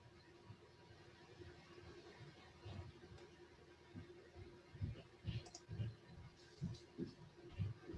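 Soft, irregular computer mouse clicks during an online meeting, faint and close, repeating in small clusters over low background noise.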